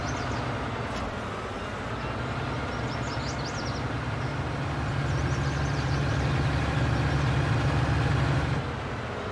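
A free loaner tractor from the shop in the farming game Midtown USA runs with a steady, low engine drone, holding even throughout with a slight swell toward the end.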